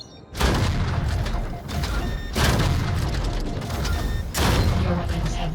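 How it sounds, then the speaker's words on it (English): Mech weapon fire and grinder targets blowing up in the VR mech game Vox Machinae, with loud booming bursts of gunfire and explosions in three heavy waves, one after another, and a mechanical clatter underneath. "Shoot the grinders until they blow up"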